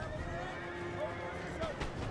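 Horse neighing in the Napoleon Total War video game, short whinnies rising over a constant busy battle din, with someone talking throughout.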